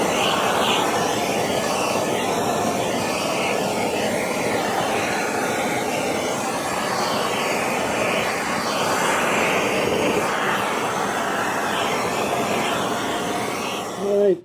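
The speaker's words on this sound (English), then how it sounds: "You can hear my respirator's on because it's stinky" A respirator worn in a workshop during a drill press restoration runs as a steady, close, whooshing airflow hum that fills the whole stretch without pause.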